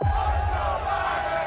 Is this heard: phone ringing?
no